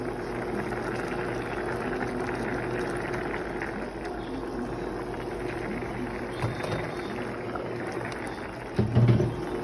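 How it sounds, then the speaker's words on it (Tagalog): A pot of fish soup bubbles at a low, steady boil, a soft continuous gurgle with a few louder pops near the end, no voices. "ato sang pabukalan"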